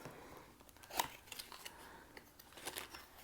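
A package being opened with scissors: sharp snips and crinkling plastic or paper come in short irregular bursts, close and fairly quiet, with one louder cut near the start.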